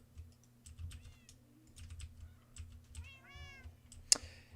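A Minecraft cat meows a few times, short high cries that rise and fall, over steady computer keyboard typing and clicking with a low background hum.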